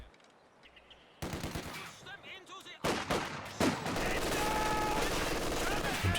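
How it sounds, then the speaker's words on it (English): Machine gun fire in the World War II strategy game Company of Heroes 2, rapid bursts of automatic rounds with heavier gunfire and explosions building into a dense, continuous battle din. "MG gets the suppression on."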